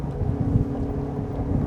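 The engines of a Joker Boat Clubman 30 inflatable run at 4,800 rpm with 70% trim while the boat cruises at 39 to 40 knots: a steady, loud, low roar mixed with rushing wind buffeting the microphone.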